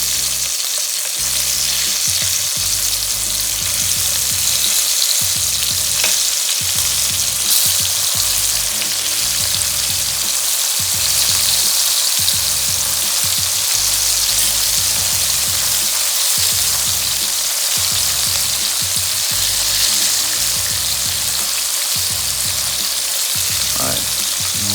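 Shrimp fry in hot oil with a loud, steady sizzle that runs on throughout, broken by regular rhythmic pulses of stirring or bubbling.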